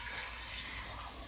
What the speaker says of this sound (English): Okay, so I'm going to put the tea in here.